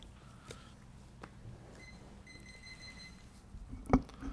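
A speaker's timer at a city planning commission meeting beeps faintly in a short steady electronic tone amid room noise, followed by a sharper loud tap near the end.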